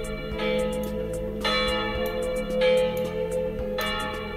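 A church bell sound effect used for a custom PS3 ringtone, with sustained ringing tones struck again roughly every 1.2 seconds and each stroke decaying into the next, clear and with no talk.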